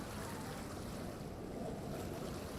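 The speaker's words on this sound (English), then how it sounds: "ocean waves sound effects" Ocean waves and surf from a seaside scene in a Unity penguin game, a steady broadband wash with no distinct breaks, continuous and fairly soft throughout.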